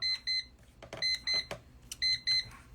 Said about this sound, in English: That's the water timer.